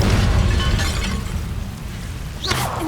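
An Incendio fire spell bursts in Hogwarts Legacy, a loud crackling, explosive whoosh up front that fades into rumbling debris, ending with a brief sharper flare.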